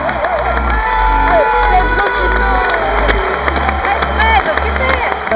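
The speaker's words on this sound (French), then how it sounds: "En tribune, on crie, on les soutient, on les encourage." Spectators in badminton stands at a world championship cheer and shout, a loud, dense roar of voices with whoops and rising yells running continuously throughout.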